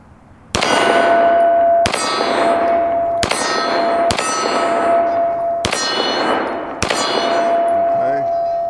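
Six ringing clangs from handgun rounds striking a steel gong target, fired with a 1911 pistol at an outdoor range. Each loud metallic hit sounds at a steady, fairly quick pace and leaves a long shimmering ring that decays into the next.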